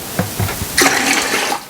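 Water pours in a short splashing burst into a vinegar pickling solution for sweet pickles, starting faint and rising to a steady close rush.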